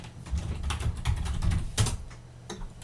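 Password being typed on a computer keyboard in a quiet room during a LaTeX setup on Linux Ubuntu: a steady run of close, crisp key clicks with irregular rhythm, a few louder strikes, no talking.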